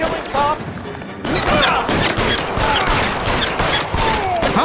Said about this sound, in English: You see how many times I shot that guy in the chest?